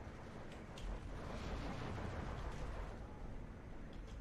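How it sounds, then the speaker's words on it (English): Bombs from an air strike in the Steel Division 2 wartime strategy game burst in a dense, rumbling roll of explosions, heavy and continuous with no voices over them. "Oh, very good bombing run though"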